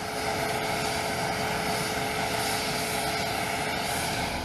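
Steady, loud aircraft engine roar from Air Force One, a continuous broadband drone with a faint tonal hum, no talking.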